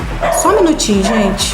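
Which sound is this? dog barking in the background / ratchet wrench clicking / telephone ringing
dog barking in the background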